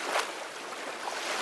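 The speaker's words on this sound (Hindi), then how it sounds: "ये इसकी लहरें बहुत ज़बरदस्त उठती हैं और डाउन होती है" Arabian Sea waves at Kanyakumari, a steady broad wash of surf with a slightly stronger surge near the start, close and continuous with no voices.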